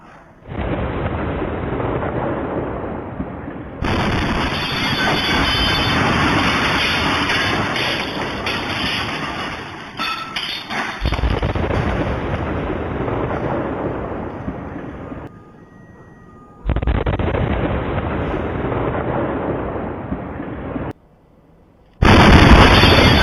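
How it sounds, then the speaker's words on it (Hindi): A heavy explosive blast at a police station roars with a long, rumbling boom that swells and fades, broken by brief cuts, loud and close. "धमाके की आवाज सुनिए आप, कितना गंभीर, कितना बड़ा धमाका"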